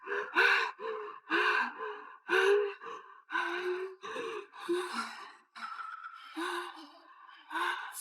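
A distressed woman in a dramatic scene breathes fast and hard, with a string of close, loud gasps and ragged breaths following one another almost without pause.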